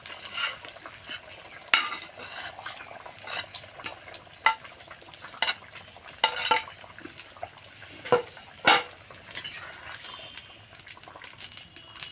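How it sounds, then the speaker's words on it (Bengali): Shrimp stirred in a pan with pointed gourd, a spatula scraping and clattering against the metal in irregular strokes over a soft background sizzle, close and without talk. "এখন চিংড়ি মাছটা দিয়ে দেব।"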